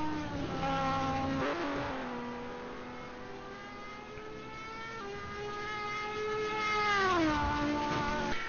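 Race car engines in an endurance sim race at Road America, including a Corvette, whine with shifting harmonic pitch, dropping as the car brakes hard and then climbing again; fairly quiet, no talk.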